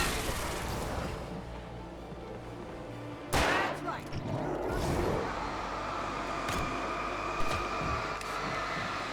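Gunshots in the Alan Wake video game ring out with one sharp, loud crack standing out, followed by a couple of fainter reports over a low, steady rumbling backdrop.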